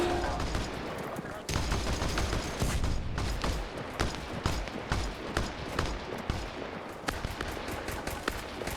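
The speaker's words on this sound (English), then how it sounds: "We got some kind of grenade launcher hitting us from inside the compound." Grenade launcher rounds slam into a squad from inside a compound in the military shooter Arma, dense bursts of explosions and gunfire crackling loud and close with a faint voice underneath.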